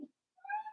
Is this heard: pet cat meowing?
yes